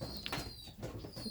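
A racing pigeon coos softly inside a loft, a short low throaty murmur with faint rustling in the background, quiet and close.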